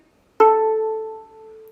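A single bowed note on a violin's open A string enters sharply and sustains steadily with rich harmonics, fading slightly near the end; clear and close, with no other sounds.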